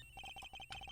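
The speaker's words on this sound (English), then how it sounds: "This phone is ringing for a long time. It's a Nokia." A Nokia cell phone rings in the Ace Attorney video game, a rapid repeating electronic ring tone pulsing in quick even beats, clear and alone.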